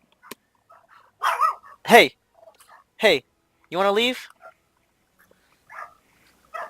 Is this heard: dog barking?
yes